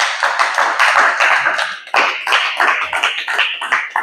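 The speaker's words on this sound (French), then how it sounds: "Acclamons très fort pour le Seigneur" Church congregation clapping loudly and continuously for several seconds, a dense crowd of hands with scattered louder claps, fairly close.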